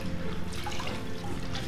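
Laundry being scrubbed by hand in water, a brief continuous wet rubbing and sloshing with faint dripping, close and moderately loud, with no voices.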